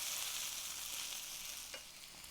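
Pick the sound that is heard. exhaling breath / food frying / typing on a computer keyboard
food frying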